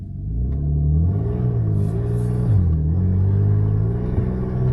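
A Ferrari 458 engine revs up close while in drive and stuck in a higher gear, a loud steady droning rumble with wavering pitch that climbs and dips slightly, without any talking.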